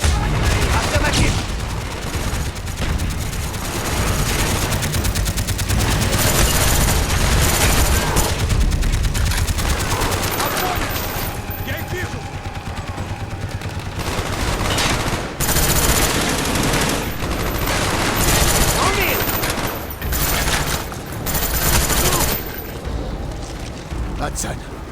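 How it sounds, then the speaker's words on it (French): Dense machine-gun fire from a tower in the Call of Duty Black Ops campaign rattles in continuous loud bursts, with booms and explosions mixed in and voices shouting over the battle. "Mitrailleuse dans la tour!"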